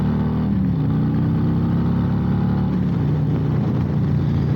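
Harley-Davidson Road Glide Special with the 114 engine pulling under throttle, a loud, close, deep V-twin rumble climbing steadily with a brief pitch dip near the end, no talk.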